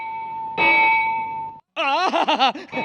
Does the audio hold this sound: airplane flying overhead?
no